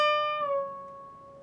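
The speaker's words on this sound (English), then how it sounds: "we've bent that string up," One electric guitar note, pre-bent at the 15th fret of the B string, picked once and released back down, ringing clearly and alone with a slight pitch shift as it settles and fades.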